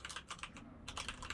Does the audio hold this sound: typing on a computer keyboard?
yes